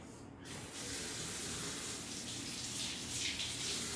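Tap water runs steadily into a sink while hands are washed under it, a constant close hiss and splash with no talk.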